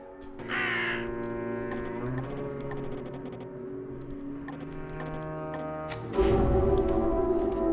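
A crow caws in the video game Drake Hallow, harsh calls over a droning, ticking game soundtrack, with a louder burst near the end.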